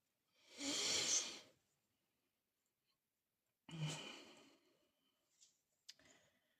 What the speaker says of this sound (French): vous l'entendez hein, quand je suis concentrée, parce que justement, je respire hyper fort quand je suis concentrée